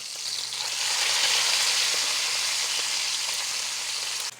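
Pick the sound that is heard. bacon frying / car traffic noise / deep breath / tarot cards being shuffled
bacon frying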